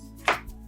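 A knife slicing through onion for Nigerian jollof rice lands in one crisp cut, followed by a soft low knock on the board as the blade meets wood, close and otherwise quiet.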